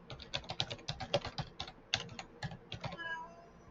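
Keys clatter on a computer keyboard as a domain address is typed, a quick irregular run of close, crisp clicks with short pauses and a brief softer tail at the end, no speech.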